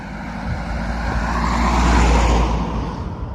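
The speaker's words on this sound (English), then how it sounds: "vehicles are coming around this bend where you can't see" A car on a road beside a muddy riverside path rolls past close by, its steady tire and engine roar swelling to a peak midway and easing slightly as it continues.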